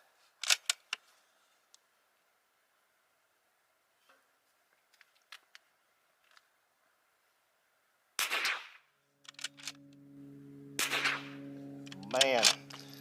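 Bergara B14R Pro rifle fired on a benchrest range: a few sharp cracks early, then a quiet gap and three loud, booming reports later on, with a voice briefly heard near the end.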